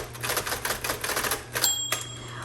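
A repainted red 1960s Electra 110 electric typewriter types in quick, irregular bursts of crisp key strikes, close up, with a steady low motor hum underneath and a brief bell-like ring near the end.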